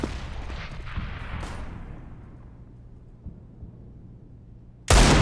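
Desert Eagle gunfire in a Counter-Strike match: a booming shot decays away over a couple of seconds amid faint game ambience, then another loud, abrupt blast cuts in at the end.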